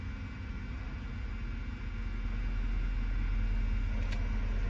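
Truck engine running low and steady while the truck turns around, a constant rumbling drone with a faint idle-like throb, heard alone without talk.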